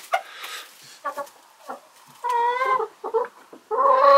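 Polish hens and a rooster clucking and calling in a flock, with several short bursts and a few longer drawn-out cackles close by.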